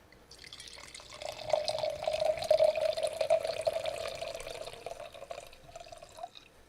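Wine poured into a glass during a podcast session, a quiet, steady liquid stream that swells in the middle, trickles on for several seconds and then tapers off, with no talking.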